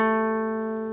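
One guitar note on the D string at the 7th fret sustains cleanly from the start, a steady ringing tone with strong harmonics that fades only slightly.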